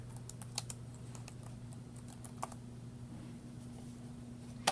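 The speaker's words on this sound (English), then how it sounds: "On our search bar here, I'm going to type in cookbooks" Keystrokes on a computer keyboard entering a search on a public library website, a few light scattered clicks over a steady low electrical hum, faint and sparse with one sharper tap at the end.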